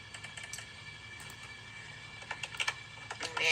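A name is typed on a computer keyboard while setting up a CraftPrint design: soft, quick keystrokes scattered over a steady background hiss, growing denser and slightly louder toward the end, with no talking.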